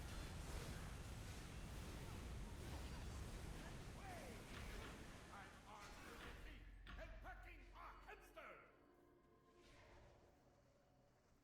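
Muddy water surging into place in the video game Neverwinter: a broad, steady watery rush that fills the first eight seconds, then cuts off into near silence.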